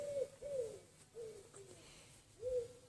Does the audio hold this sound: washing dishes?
no